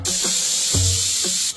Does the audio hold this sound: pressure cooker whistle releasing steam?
yes